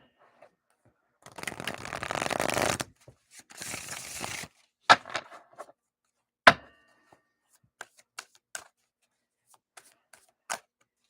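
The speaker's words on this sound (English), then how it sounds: "Let's get some oracle cards" Oracle cards being shuffled, two bursts of riffling close up followed by scattered sharp taps and clicks as cards are handled and laid down.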